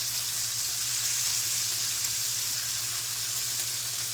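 Shrimp and sausage sizzling steadily in a hot pan, a continuous bright crackling hiss over a low hum, even and unbroken throughout with no talking.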